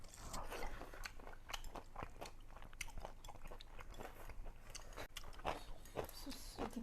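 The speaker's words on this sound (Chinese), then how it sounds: "我咬着吃。" A man bites and chews thick slices of boiled pork dipped in soy sauce, with a close, loud, continuous wet crunching and smacking that runs through the whole stretch.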